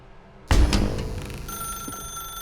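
An office desk telephone in The Stanley Parable starts ringing abruptly, its bright electronic trill loud and close, then tails off into a lingering tonal hum with no voice over it.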